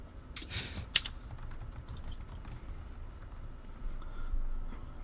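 Computer keyboard typing during a StarCraft Protoss match broadcast, a faint patter of key clicks under a low background hum, with a couple of sharper taps near the start.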